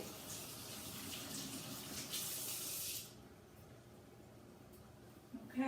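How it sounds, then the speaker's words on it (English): Tap water running into a sink during handwashing before cooking, a steady faint hiss that stops after a few seconds, followed by quieter room noise and a small knock near the end. "I'm going to wash my hands."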